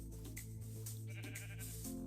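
A sheep bleats in the Minecraft video game, with a wavering, tonal bleat over a steady game backdrop and no voices.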